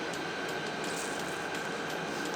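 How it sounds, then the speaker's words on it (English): Air conditioner running indoors, a steady broadband hum with a constant tonal whine, continuous and even throughout with no talk. "I might go turn off the air conditioner."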